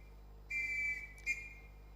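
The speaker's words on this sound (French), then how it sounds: "on siffle toujours le silence avant d'annoncer un rassemblement" A scout leader blows a whistle to call for silence: one clear, sustained high blast, then a second short blast after a brief dip, over quiet room hum.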